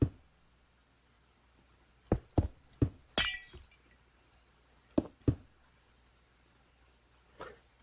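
Yellow stained glass windows being placed on a tower in a building video game, heard as a series of short, sharp clinking taps, one brighter glassy crash among them, spaced irregularly over quiet.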